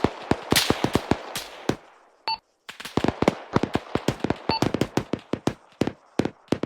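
Bursts of machine gun fire crack out in the Arma 3 battlefield, sharp loud shots in rapid uneven strings with a brief silent gap midway, a few distant tones between volleys.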